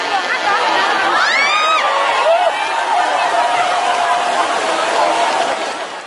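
A dense festival crowd somewhere in Asia roars loudly and steadily as a burning balloon falls onto them, with a few sharp rising shrieks cutting through early on.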